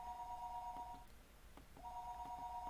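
A telephone rings in the Higurashi visual novel game, two bursts of a steady electronic trill separated by a short pause, clear and fairly faint over a quiet background.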